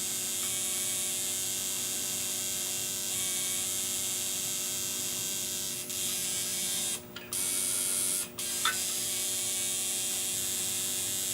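A tattoo machine runs in a steady, close electric buzz while drawing lines, with a few short breaks where it stops briefly before resuming.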